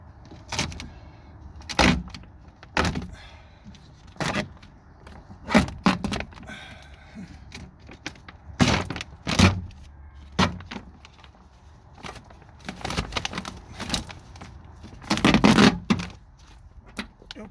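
Plastic moisture barrier peeled away from the inside of a Nissan Cube driver's front door, heard as repeated loud ripping and crackling bursts, close up, with pauses of faint handling between pulls.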